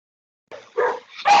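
A dog barks or yips close by during an online event, with three quick, sharp bursts after a moment of silence.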